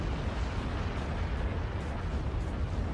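Missile explosions in the real-time strategy game Act of Aggression, heard as a dense, continuous rumbling roar of blasts blending together, steady and loud throughout with no distinct separate bangs.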